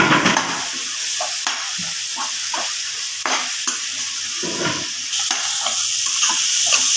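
Fried fenugreek leaves are stirred into a tomato puree gravy in a pan, with constant oily sizzling under repeated scraping stirs of a utensil against the pan, close and steady, no talking.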